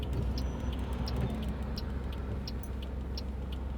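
A car drives through Blackpool town streets on a Sunday afternoon, giving a steady low road rumble and engine drone with faint ticking, close and continuous, with no talking.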